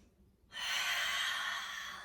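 A deep inhaled breath during a seated yoga twist, close and breathy, starting after a short quiet moment and held steadily to the end.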